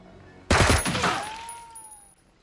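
A sudden loud burst of gunfire in the video game Jagged Alliance 3 cracks out and then rings off in a decaying echo, with a falling whine trailing behind it.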